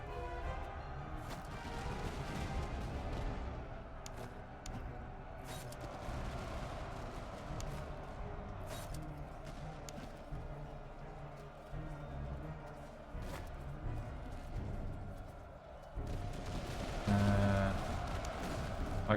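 Scattered musket volleys and booming artillery fire rumble through a Napoleonic-era battle in the strategy game Master of Command, with sharp cracks repeating irregularly over a steady low battlefield din, loudest toward the end.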